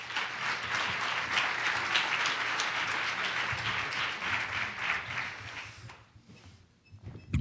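Audience applause welcoming the closing keynote speaker at the Farm Tank 2016 conference, a steady dense wash of clapping from a large crowd that holds for about six seconds before thinning out and fading.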